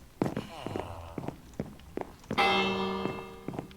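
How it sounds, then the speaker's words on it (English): A bell rung in Minecraft gives a loud, bright, ringing strike that hangs and slowly decays, after several quick thuds and clicks of game actions, with a voice talking briefly. "I'm gonna ring the bell to get everyone into a bed."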